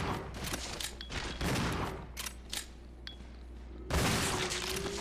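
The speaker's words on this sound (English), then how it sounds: "I'm going to use the shotgun here and I'm going to waste a little bit of shotgun ammunition" Shotgun blasts aimed at zombies in the Resident Evil 0 HD Remaster, a close, loud fusillade of several heavy game-weapon shots with mechanical pump clatter between them, finishing in a big final burst.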